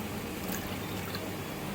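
Water pours steadily from a measuring cup onto sugar for syrup, a continuous close splashing wash with no talk.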